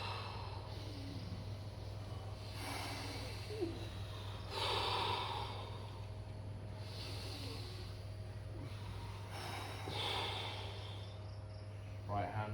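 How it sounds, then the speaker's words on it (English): Deep breaths taken during a morning stretching and mindfulness routine on Koh Samui, three slow breathing swells, each inhale and exhale soft and airy, over a steady low hum and faint insect chirps. "3 deep breaths"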